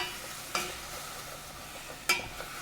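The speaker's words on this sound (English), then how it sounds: "So start stirring. Quick, quick." Food stirred in a hot pan on the stove, with a steady close scraping sizzle and two sharper utensil clacks against the pan.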